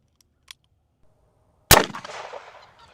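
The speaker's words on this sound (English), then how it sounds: "shooting around a 44 Magnum." A single sharp .44 Magnum revolver shot striking a ball, preceded by a faint tick, then a loud crack followed by a ringing, fading metallic tail over roughly a second.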